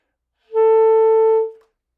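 One clean, sustained saxophone F sharp in the upper octave, played with the octave key, holds steady for about a second, then stops cleanly.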